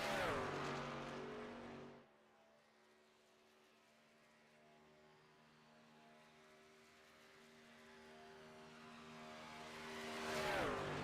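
Race truck engine in iRacing at Chicagoland, loud at the start, then dropping to a distant steady drone that gradually swells again as the truck comes back close, with rising and falling engine harmonics.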